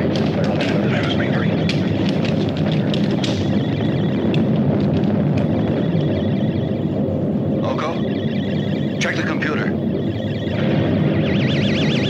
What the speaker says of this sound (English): Mila, check the distance of the stellar explosion.